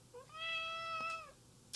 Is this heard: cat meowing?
yes